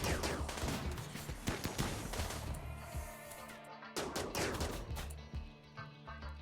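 Dense gunfire in the colony-building game RimWorld, a steady barrage of overlapping shots and bursts with brief lulls, loud and continuous with no talk.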